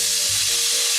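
Peppers sizzle steadily in hot olive oil in a saute pan, a loud, continuous hiss and crackle with no voices over it.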